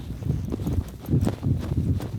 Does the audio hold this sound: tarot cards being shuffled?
no